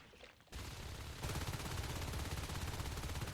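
Rapid gunfire in a Natural Selection match on the Data Core map, starting after a short quiet moment and building into sustained loud automatic shots, a burst growing heavier partway through.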